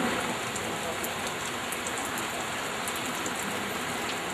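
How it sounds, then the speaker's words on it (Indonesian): Light drizzle falls in a steady, even wash of soft patter that keeps going the whole time without a break. "pagi ini hujannya tidak lebat, rintik-rintik"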